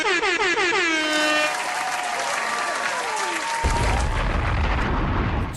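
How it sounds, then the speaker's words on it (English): A loud, sustained explosion sound effect with whooshing, descending whistle-like tones and a heavy boom rising near the end, played as a celebratory New Year's opener. "Explosion."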